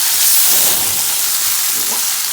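Ackee and saltfish sizzle steadily in a hot pan as the mixture is flipped, a continuous close hiss of frying with faint soft stirring scrapes and no talking.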